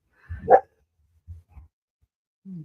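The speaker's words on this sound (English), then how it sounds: "The dogs are pretty excited about that one." One dog gives a sharp bark, followed by a few faint low thumps and a short whine toward the end. The sound is close, and it is heard in an otherwise quiet room.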